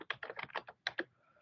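A quick burst of typing on a computer keyboard in an office, with about eight close, crisp key presses in an uneven rhythm followed by a quiet tail.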